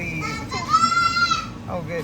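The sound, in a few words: the speaker's children playing and shouting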